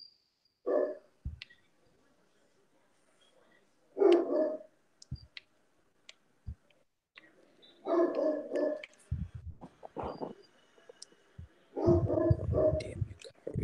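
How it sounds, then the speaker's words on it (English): A dog barks in several separate bursts a few seconds apart, moderately near, with quiet gaps and faint clicks between the barks. "This goes the dog"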